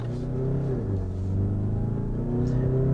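A 2019 Mazda CX-5 diesel SUV accelerates with a steady engine drone whose pitch dips and climbs again as it shifts gear, heard continuously from inside the car.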